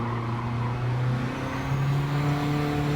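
A 1991 Honda Beat race car with a K20 engine swap drones at steady high revs at the Autopolis circuit in Gran Turismo 7, a constant buzzing engine tone that shifts slightly in pitch as it holds speed.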